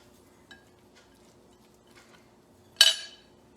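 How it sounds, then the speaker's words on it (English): Beaten egg is mixed into a muttabbaq filling in a bowl: a few soft taps of utensil on bowl, then one sharp, bright clink, in an otherwise quiet kitchen without talk. "I'm gonna add beaten egg, like half of the egg. It's 1 egg, and I'm gonna mix it in"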